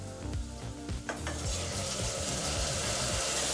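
Chopped onions and tomato fry in a hot pan while a spoon stirs them, giving a close, steady sizzle with scraping and clinking stirs that grow denser as the sizzle swells.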